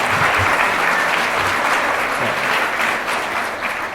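Sustained applause from a crowd at a school district retirement celebration, steady and dense clapping filling the room for the whole stretch with no voices standing out.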